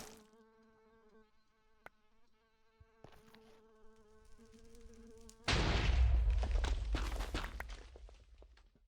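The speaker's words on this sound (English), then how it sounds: "I hear it buzzing somewhere." Faint insect buzzing drifts through a quiet stretch of the Minecraft modpack Enigmatica 6 Expert in the nether, a steady whine that gives way to a sudden loud burst of noise midway through.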